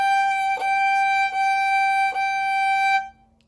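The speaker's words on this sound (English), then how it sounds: "And that is a G natural, or just plain old regular G." A violin bows a sustained G natural on the E string with a low second finger, one steady pitched tone held for about three seconds with slight bow-change bumps before it fades.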